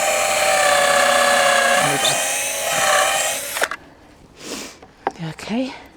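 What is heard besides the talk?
power drill driving screws into pallet wood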